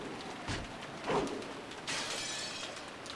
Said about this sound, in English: He hit it several times, and eventually a fist-sized hole opened up in the glass.